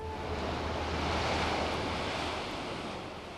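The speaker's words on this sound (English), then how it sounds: "The sound of the waves is on the beach at Waikiki" Surf washes onto the beach at Waikiki in a steady broad roar with a slow swell in loudness, no voices over it.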